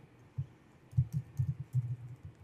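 Typing on a computer keyboard, a quick run of soft, close key taps in an uneven rhythm, growing busier after a short pause.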